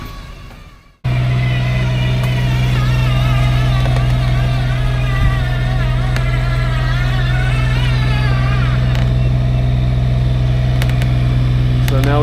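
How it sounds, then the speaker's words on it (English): An RV generator runs nearby, a loud, steady low hum with a constant tonal drone that starts abruptly and continues unbroken, with faint background sounds over it. "The generator is actually right here. So that's running"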